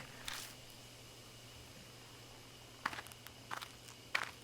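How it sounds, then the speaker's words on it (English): Footsteps crunch through bushes in the video game Death Mark, a few soft, close rustling steps spaced apart over a low steady background hum. "I hear footsteps again. They seem to be getting closer."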